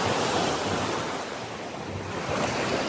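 Ocean surf washing steadily onto the shore, a broad continuous roar of breaking water with gusts of wind buffeting the microphone, loud and close throughout with no voices.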